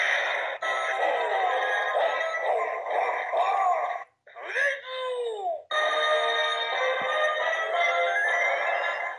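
A Power Rangers Dino Charge Plezuo toy plays an electronic sound effect of warbling, space-themed synthetic tones. It breaks off briefly in the middle, then resumes at a steady, close level.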